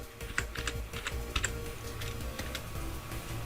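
Quick bursts of keystrokes on a computer keyboard while a layer name is typed in Illustrator, a soft, close clatter in short irregular runs, with no one talking.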